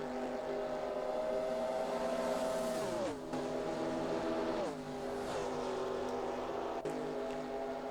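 A De Tomaso race car in the GT Legends classic sports car racing game, its engine howling at high revs, dropping pitch sharply at gear changes and climbing again, loud and close throughout.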